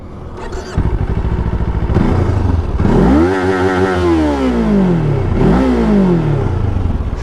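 A Kawasaki Ninja 500 motorcycle revs through its exhaust, rising and falling in two or three sharp throttle blips over a rough idle, loud and close with no talking.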